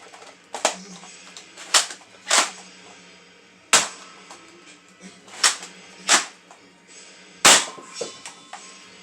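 A Dart Zone Balistix ball blaster fires Chaos rounds in a series of sharp, snappy cracks, several shots spaced a second or two apart, each with a brief mechanical rattle against a quiet background.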